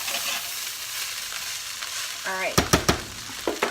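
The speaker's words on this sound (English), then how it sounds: "What we're trying to do is just scrape up those bits kind of off the bottom of the pan" Chicken fried rice sizzling in a pan while a utensil stirs and scrapes stuck bits off the bottom, with a few sharp, loud scrape clanks near the end; a brief spoken remark comes in briefly.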